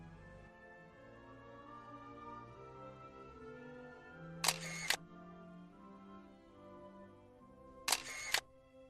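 Two crisp mechanical shutter clicks from a single-lens reflex camera set to 1/500 second, spaced a few seconds apart over a faint steady background hum.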